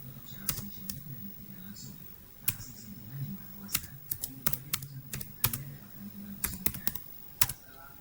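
Someone types a password on a computer keyboard: irregular clusters of sharp key clicks at a moderate distance over a low steady hum.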